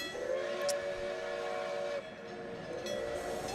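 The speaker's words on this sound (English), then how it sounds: "Now, this is a little steam engine" A little steam engine sounds a sustained, tonal train whistle that holds for about two seconds, cuts out briefly and returns, fairly loud over rumbling rail noise, with no talking.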